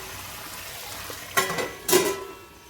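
Masala sizzles in hot oil with onion and tomato in a pan, a steady low frying hiss broken by two louder bursts of stirring and scraping near the end.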